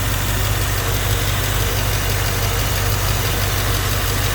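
Electric radiator fans on an FJ-80 Land Cruiser with an LS engine swap, running as a steady, loud broadband whoosh with a low hum throughout, close and continuous with no talking.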